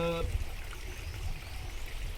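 Clear, cold spring water runs down from above at Thandiani near Abbottabad, Pakistan, a steady close stream that follows a brief tonal sound, with a voice faintly over it.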